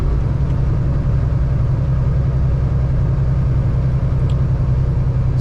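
Steady low rumble of a vehicle engine heard from inside while driving toward Thunder Bay on a cold winter day, a constant droning hum with no breaks.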